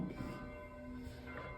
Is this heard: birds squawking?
no